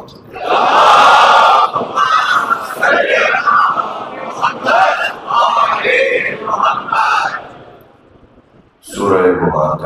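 A crowd at a religious majlis gathering loudly chants salawat in unison, a swelling mass of voices with a brief pause near the end before the chorus rises again.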